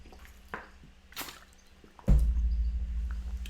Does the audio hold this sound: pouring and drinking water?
yes